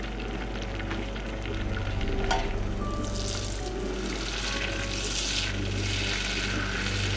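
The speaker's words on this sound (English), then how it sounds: "the butter appears to be nearly melted and stuff" Butter melting in a saucepan on a stovetop gives a steady, soft sizzle and crackle over a constant low hum, close and continuous.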